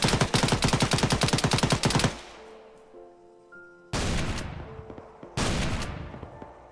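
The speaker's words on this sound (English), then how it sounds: "I can hear some shooting in the distance." Shotgun fire in a video game crackles in dense rapid volleys, then breaks into two shorter renewed bursts after a quieter gap with faint tones, sounding somewhat distant and with no talk.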